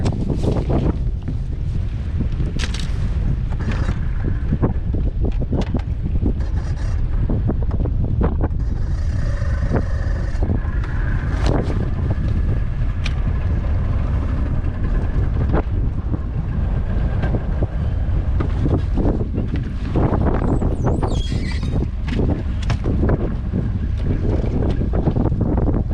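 A boat motor idles out from a dock on a windy day during a fishing trip, its low, steady engine rumble mixed with continuous wind buffeting the microphone and a few knocks and clatters.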